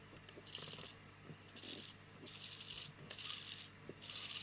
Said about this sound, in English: My servo is noisy because it's a pretty awful servo.